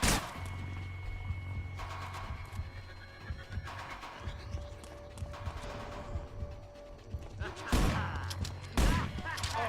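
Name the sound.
enemies firing a gun in video game Manhunt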